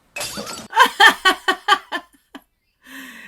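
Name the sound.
mug smashed in the movie Thor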